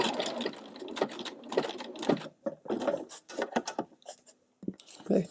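A sewing machine stitches a satin stitch, pulling fabric through in bursts of rapid mechanical clatter separated by short pauses, close and fairly loud.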